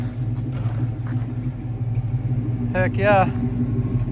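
A 1973 Plymouth Satellite Sebring engine runs on stale, poor-quality gas, a steady low idling rumble continuing throughout while someone briefly speaks over it.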